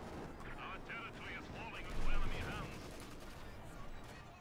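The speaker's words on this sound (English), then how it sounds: "Machine gun there, crewed here by Miragefla's Grenadiers." Machine gun fire from a Grenadier-crewed MG position in the World War II strategy game Company of Heroes 2, sustained crackling bursts mixed with distant battle noise and muffled commentary-style voices, swelling briefly louder midway.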